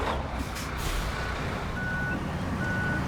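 Truck reversing in the video game One Rock at a Time 2, a steady loud engine rumble under a repeating thin backup beep, with a brief hiss early on.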